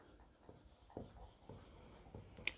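A pen scratches out an accounting entry on paper in short, soft strokes with brief pauses between them, faint and close in a quiet room.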